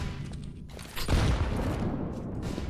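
A grenade blast in Counter-Strike lands amid ongoing game noise, a dense burst of explosion and gunfire sound that swells and stays loud for a couple of seconds.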